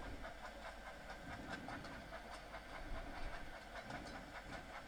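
Thomas the Tank Engine steam locomotive rolling downhill in Train Sim World 5, a steady rumbling run with rhythmic clickety-clack of wheels over rail joints and a constant steam hiss, no voices.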